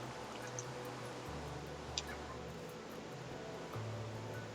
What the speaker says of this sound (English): fill this with water.